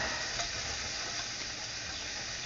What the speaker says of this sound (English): As you can see, I have the bacon in the pan. Let's render the fat out of it a little bit.